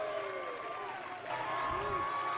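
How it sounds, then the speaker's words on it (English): Crowd cheering and clapping from the stands at an ultimate frisbee game between the Dallas Roughnecks and the San Diego Growlers, a broad steady roar with a commentator talking over it. "Trying to get the crowd to crescendo."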